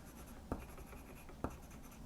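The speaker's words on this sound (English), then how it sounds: "when I fill in the black here with a pencil" A pencil shading in solid black areas of a comic drawing gives a soft, close, continuous scratchy rasp, with two slightly sharper strokes standing out, and no voices.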